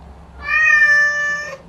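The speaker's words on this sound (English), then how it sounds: "Random cats." A single clear meow from a cat, loud and close, a sustained harmonic cry lasting over a second before cutting off, with no talking.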